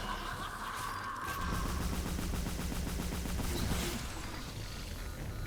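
Rapid weapon blasting in the 2009 Ghostbusters video game, a dense rattling burst of repeated shots lasting several seconds over a steady loud background.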